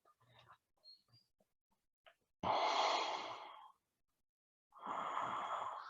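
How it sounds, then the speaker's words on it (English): Slow, deep breathing during a gentle morning yoga session: two long, close, airy breaths with a pause between them, after some faint soft rustles. "Consciously breathing into those spaces, opening everything up, releasing, exhaling."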